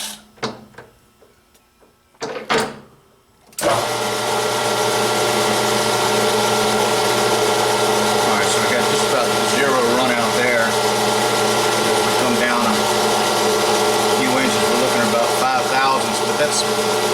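A lathe turns a homemade titanium suppressor tube, beginning with a few clicks and knocks before the machine spins up at about four seconds into a loud, steady mechanical drone with whining tones that runs to the end.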